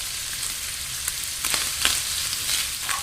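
Ground pork seasoned with garlic, paprika and oregano sizzles in a pan over medium heat, a steady dense crackle with small pops and a few louder spits, close and continuous with no voices.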